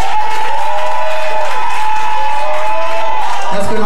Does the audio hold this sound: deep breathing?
no